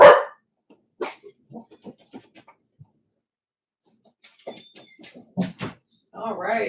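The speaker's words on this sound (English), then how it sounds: "My dog saw a rabbit." An excited dog barks at a rabbit, sending out scattered short barks of varying loudness, some distant and faint, mixed with brief bits of human talk.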